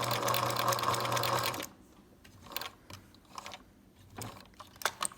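A sewing machine stitching a buttonhole, first a loud steady whir of rapid stitching, then it stops and only soft scattered clicks and taps of the mechanism follow, close by and without talk.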